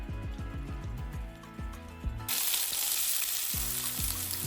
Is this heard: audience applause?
no